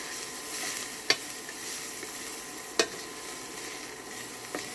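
Celery and onions sizzle in a pan for veggie dog jambalaya, a steady soft crackling hiss of frying, broken by a few sharp clicks of stirring, moderately quiet and without voices.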